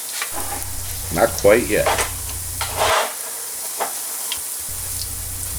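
German potato pancakes, grated with a vegetable juicer, fry in a pan with a steady close sizzle, and brief speech cuts in over the crackle.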